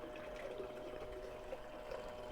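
Water flows steadily and softly over beach paydirt in a gold pan, a faint continuous trickle and wash with no voices.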